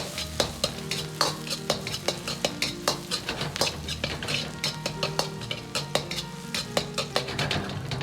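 Scallions and garlic fry in hot oil in a wok, a steady sizzle broken by a regular rhythm of metal spatula scrapes and clanks as they are tossed.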